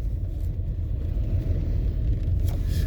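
Steady low car engine rumble heard from inside a vehicle moving in traffic, a continuous dull drone with no talking.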